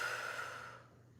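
A yoga practitioner lets out a single soft, close breath that fades away over about a second, quiet and unaccompanied.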